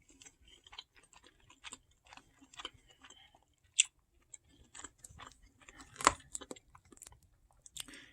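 Tough, hard dinner food chewed close up: irregular soft crunches and clicks of the jaw, with a louder crunchy bite near the end, no talking.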